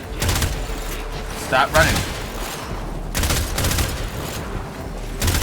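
Warframe gunfire as bursts of rapid shots ring out in sharp clusters across the fight, while someone talks over the shooting.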